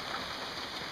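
Outdoor rain shower, a steady dense hiss of falling drops, continuous and fairly close, without talk.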